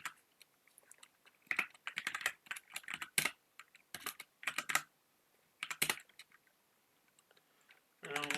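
Quick clattering bursts of someone typing code on a computer keyboard, close and loud, the keystrokes coming in uneven clusters separated by short pauses.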